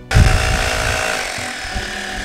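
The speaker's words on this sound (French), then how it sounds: "c'est le perforateur de Bosch, qui est pour moi vraiment un outil exceptionnel" A Bosch SDS rotary hammer drill starts up and runs steadily, a loud close buzzing motor with a strong low-end onset, then holding an even drone for about two seconds with no talk.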